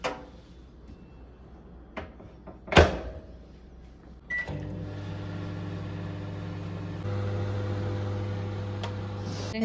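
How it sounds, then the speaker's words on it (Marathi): Microwave oven cooking rice, preceded by a few clicks and a door or button knock, then a steady low mechanical hum that starts abruptly and runs continuously, rising slightly in level partway through, close and alone without talk. "मायक्रोवेव्हमध्ये शिजवणार आहे."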